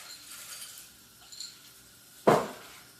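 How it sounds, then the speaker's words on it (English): Frozen peas tumble into a cooking pot of gnocchi in a home kitchen, landing in one short, sharp rattling burst near the close after quieter faint clinks and background noise. "Now I'm going to throw in some peas as well."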